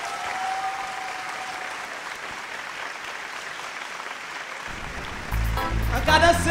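Steady applause from a live talent show audience, a dense wash of clapping that swells louder near the end as other sound joins in.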